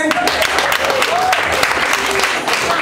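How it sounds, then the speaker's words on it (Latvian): Applause from a live contest audience for the jury, a dense burst of clapping mixed with crowd voices and talk over the top, lasting only a few seconds. "Aplaus žūrijai."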